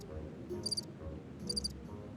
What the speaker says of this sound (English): I got crickets for, you know, when my friends make a bad joke